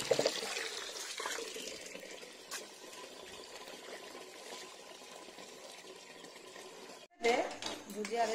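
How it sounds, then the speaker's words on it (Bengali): Water is poured onto a flowering plant, a soft, uneven splash and trickle heard close by, broken by a brief gap before a final louder gush, with a voice speaking alongside. "তো চলো গাছে জলটা দিয়ে দিই চট করে।"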